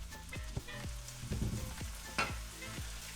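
Minced meat browns in a pan with a quiet, steady sizzle while a spatula taps and scrapes several times to break it apart, the whole close but low in level.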